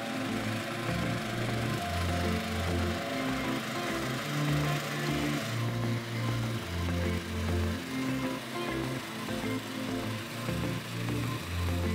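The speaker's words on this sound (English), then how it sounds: "I am surprised Hayden's trying to cut the grass over there" A lawn mower cutting grass near a rusty old container: a steady, rumbling engine drone with a slow, rhythmic pulsing, continuous and moderately near for the whole stretch, with no talk over it.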